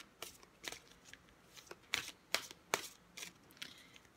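Oracle cards being shuffled by hand, a series of crisp riffling bursts in an irregular rhythm, close and fairly quiet.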